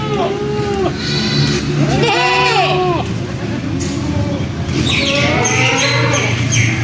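Goats on a goat farm bleat loudly and repeatedly, several animals calling in overlapping bursts with short pauses, close by over a steady background hum.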